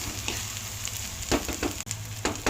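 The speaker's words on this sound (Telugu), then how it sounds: "ఇదిగోండి ఇలా బాగా ఏగనివ్వాలి" Chopped onions fry in hot oil with a continuous loud sizzle and crackle, interrupted by occasional bursts of stirring and scraping in the pan, with no voices.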